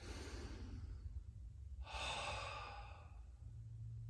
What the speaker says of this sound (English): Take a deep breath here.